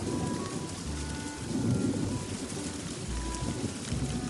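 Steady heavy rainfall with a deep rumble of thunder rolling underneath, a continuous storm wash that swells slightly midway, with no voices.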